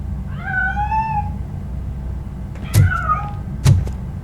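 A cat meows twice in the video game RoboCop: Rogue City, a drawn-out wavering meow followed later by a shorter one, set between two sharp knocks over a low game ambience.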